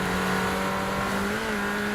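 A hot hatch car in the racing game Forza Horizon 4 roars at full throttle, its engine note loud and climbing steadily in a continuous close-up howl, with no talking over it.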